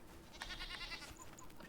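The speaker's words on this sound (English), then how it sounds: "We have the standard white goat" A white goat in the video game Enshrouded bleats in a few wavering, nasal calls over a steady game ambience, with no talking.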